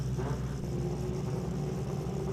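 Big-tyre six-cylinder 3-litre sports compact drag race car engine at a drag strip, a steady low droning rumble holding near-constant pitch throughout, moderately loud with no voices over it.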